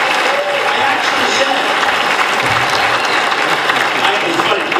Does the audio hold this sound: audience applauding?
yes